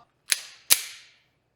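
Two sharp pistol shots from a SIG P365 X Macro ring out at an outdoor range, spaced about half a second apart, each a crisp loud crack with a quick decaying tail, and no talking.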